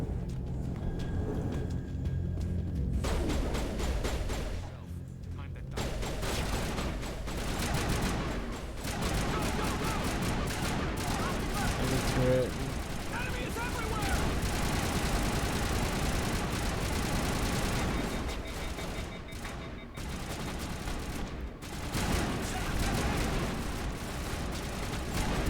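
Sustained gunfire from a Mass Effect firefight fills the whole stretch, dense and loud with little pause, with brief quieter gaps and faint voices now and then.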